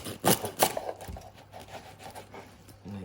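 A serrated knife saws through crispy roast pork belly with two sharp crackling crunches up close, followed by quieter scraping cuts as the blade works through.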